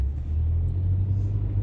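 A car rolling along a potholed, snowy, salt-covered street in Indianapolis, heard as a steady low rumble of engine and tires that stays close and even throughout.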